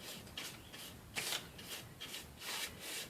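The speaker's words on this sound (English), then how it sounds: "I may have to like just sand through it just a little bit, just to have a little bit of the wood showing through." Sandpaper rubs across the painted wood of a picture frame in several soft, rhythmic strokes, close and fairly quiet, with no talking.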